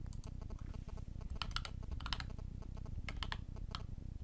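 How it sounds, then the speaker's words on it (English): Rapid keystrokes on a computer keyboard as a number is entered, a steady run of close, crisp clicks with a few louder key taps, over a low constant hum. "And I'm going to type in whatever the number is."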